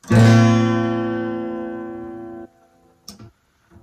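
One guitar chord from a song, played with the low E string muted by the thumb, is struck once and rings out clearly before being cut off, followed by a faint tap.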